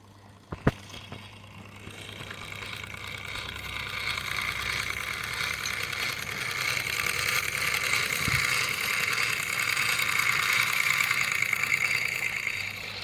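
A Wilesco D40 model steam traction engine runs with a steady, soft mechanical hiss and chuffing that builds gradually, a sharp click near the start, continuous and close with no talk.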